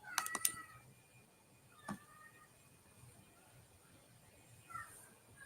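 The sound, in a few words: cat meowing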